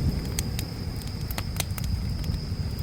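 Firewood burning in a Stats Global Lampire 280 fire pit outdoors, with sharp, scattered crackles and pops over a steady low rumble of flame.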